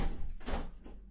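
A door swings open in a film scene, a short creak and thud lasting about a second, fairly close and alone.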